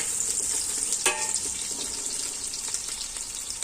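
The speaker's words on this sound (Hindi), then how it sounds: "अब हम इसमें डालेंगे प्याज और ये प्याज को हमने करना है ब्राउन, लाइट ब्राउन।" Chopped onions frying in a pan for urad mash dal, sizzling as a steady, bright hiss with occasional louder crackles and stirring, close and alone without speech.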